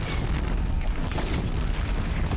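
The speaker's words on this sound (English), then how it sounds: "the explosion does actually damage you" A canister explodes in the video game Horizon Zero Dawn, a loud, dense booming roar that rumbles on steadily without a break for over two seconds, heard alone with no voices.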